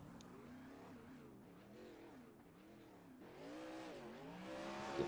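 Sprint car on a dirt track at Knoxville, engine note rising and falling as it drives out onto the circuit, fairly distant and faint at first, then swelling louder toward the end.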